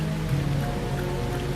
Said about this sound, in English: It's 44 degrees and it's nice and rainy outside.